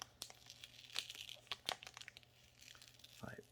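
Sticky tape crinkles and tears as it is pulled off a board game box during an unboxing, heard as short, quiet crackles and rips close by.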